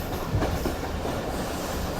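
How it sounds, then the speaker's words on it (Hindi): Jaffer Express passenger train, hauled by a Chinese-built locomotive, rolling into Gujrat railway station: a steady, dense rumble of wheels and carriages with faint rhythmic clatter, heard close and continuous throughout, no voices. "तो 2:12 पर हमारी ट्रेन अप्रोच बना रही है गुजरात रेलवे स्टेशन पर"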